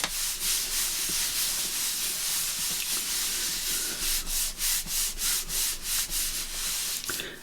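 Paper being folded and rubbed down firmly by hand, a run of rhythmic scratchy strokes close up, speeding into quick repeated rubs toward the end, with no voices.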